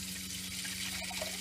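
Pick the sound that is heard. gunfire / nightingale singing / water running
water running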